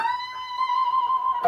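An electric guitar plays a sustained note at fret 22 on the B string, bent up a whole step and held with vibrato, ringing alone with bright overtones for over a second before a short pick attack at the end.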